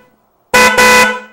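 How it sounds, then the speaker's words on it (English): An electric bike horn mounted on a bicycle frame tube, thumb button on the handlebar, blasts twice close up: a loud, bright, steady tone with a short break between the two presses, then a fading ring. "So here you can see, here's the horn"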